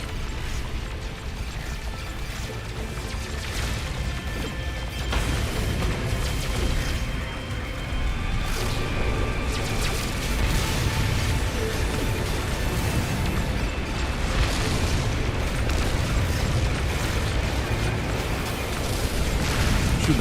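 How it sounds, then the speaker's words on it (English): Heavy missiles explode in a video game battle against shield generators, a dense, continuous roaring rumble with rolling bursts and crashes layered throughout, loud and unbroken from start to finish. "Heavy missile inbound."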